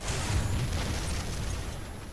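Tank cannon firing in an arcade tank battle in War Thunder: a loud, dense booming rumble that rolls on steadily with heavy low-end weight and slowly eases off.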